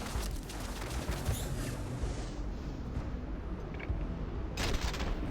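Dense volleys of gunfire in the space game Starfield, loud and continuous, with rapid shots and booming impacts layered throughout and a sharper burst near the end.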